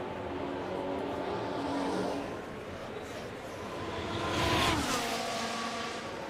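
Ferrari Formula 1 cars in the F1 Manager 2026 racing game at the Great Britain round roar past, their engine tones rising and sweeping by with a Doppler-like pitch shift, over constant track ambience.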